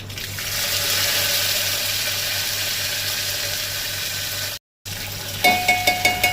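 Curry leaves dropped into hot oil with mustard seeds and fenugreek for a Goan sambar tempering, giving a steady close sizzle and hiss that cuts out briefly, then returns with a few sharp crackling pops.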